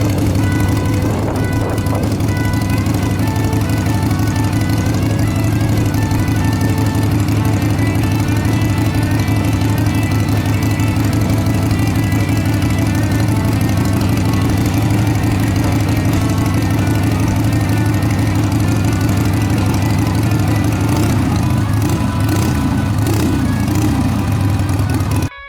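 A black Harley-Davidson motorcycle engine, among them a 1975 Sportster XLH, runs steadily at idle nearby with a deep, even low rumble and no speech.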